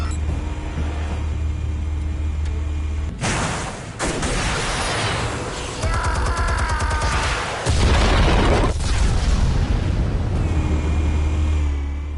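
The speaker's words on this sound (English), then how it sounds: "Explosives armed. Fire when ready." Explosives detonating in the Batman Telltale series video game, heavy booming blasts and rumbling bursts that come in loud waves with debris-like crackle throughout, with no voices.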